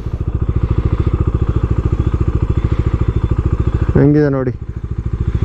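A Bajaj Dominar motorcycle engine idles steadily with a close, loud, even pulsing thump throughout, while someone speaks briefly near the end.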